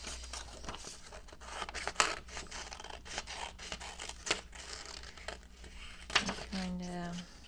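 Scissors snip paper in short crisp bursts, fussy cutting around a picture for a collage journal, with soft paper rustling and crinkling between cuts, close and fairly quiet.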